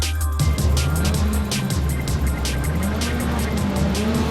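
British Touring Car Championship touring cars, Ivan Muller's among them, roar off the line from a standing start at round 5 of the 2002 season, a loud dense wall of racing engines rising in pitch throughout.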